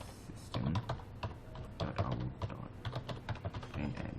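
Java code being typed on a computer keyboard, a fast, steady stream of close key clicks with uneven rhythm and a few louder presses, no voices.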